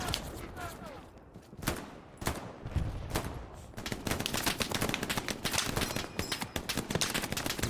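Machine gun fire in a Hell Let Loose battle, rapid rattling bursts and scattered gunshots, some distant and some close, growing denser and more continuous toward the end.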